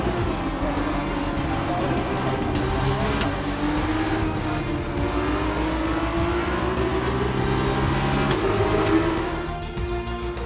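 F2 race cars in the F2 2021 video game at the Jeddah Saudi Arabia GP accelerating hard toward the finish line, a steady loud engine roar with a rising whine held throughout.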